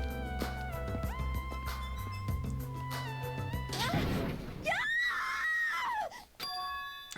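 Game music with bell-like tones and a crash in Danganronpa 2 gives way to a girl's high, wavering scream that lasts about a second before the music returns.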